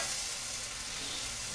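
Eggs fry in a pan greased with Thrive butter powder, giving a steady, even hiss of sizzling that stays constant throughout with no talking.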